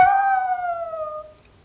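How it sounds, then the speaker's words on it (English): A small dog gives a single sustained howl that slowly falls and fades, close and alone. "Do you hear that little pupper?"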